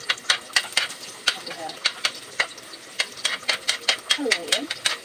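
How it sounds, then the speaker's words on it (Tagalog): Chopped onion sautéing in a pan for a budget carbonara, with repeated scraping stirs at a quick irregular beat over a soft background sizzle, sounding close to the pan. "So, i-igisa na natin yung sibuyas first."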